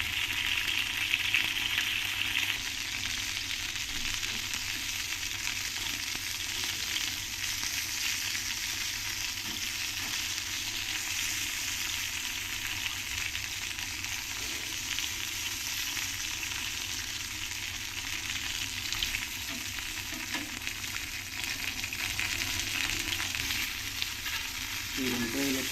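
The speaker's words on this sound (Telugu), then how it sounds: "వంకాయలను కాలుస్తున్నాం అన్నమాట." Brinjal pieces frying in salted oil, a dense steady sizzle and hiss that holds evenly from start to finish, close and unbroken by speech.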